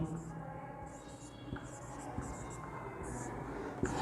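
Writing on a board during a maths lesson, with soft scratchy strokes and occasional taps repeating at an uneven pace, fairly quiet beneath a background of faint murmuring.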